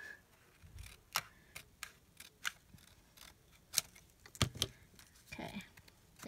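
Scissors snip through paper for a flamingo-themed mini journal in a quiet room, a series of sharp, close, faint clicks spaced irregularly, with soft handling noise between cuts.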